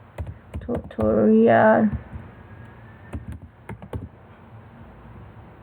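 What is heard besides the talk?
typing a file name on a computer keyboard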